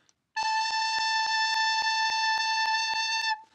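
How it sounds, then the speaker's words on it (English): Recorder holding the note A, one clean continuous pitch about three seconds long, bright and close, with a faint metronome-like tick pulsing under it and no voices. "That's A."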